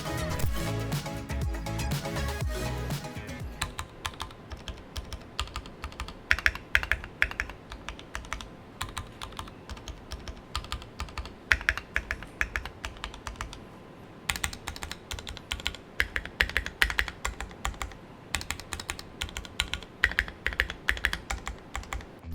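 Typing on a Keychron Q3 full-aluminium custom mechanical keyboard with lubed brown switches and screw-in stabilizers, a rapid, continuous stream of close, crisp keystrokes with occasional louder thocks, preceded by a brief low rumbling burst at the start.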